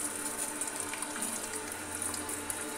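Water runs from an instant electric hot water tap fitted with a temperature controller, a steady close splashing rush with no voices.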